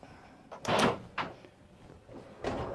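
Kitchen drawers in a Dethleffs Globetrotter XLI camper van slide open and shut in three separate bursts, close and fairly loud, with quiet gaps between.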